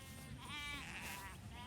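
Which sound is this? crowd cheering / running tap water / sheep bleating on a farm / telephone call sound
sheep bleating on a farm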